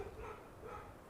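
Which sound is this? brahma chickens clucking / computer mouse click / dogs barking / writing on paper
dogs barking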